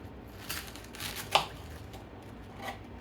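Knife chopping through half a head of cabbage for homemade coleslaw, a few soft crunchy cuts with one sharper chop near the middle, close and fairly quiet with no talking.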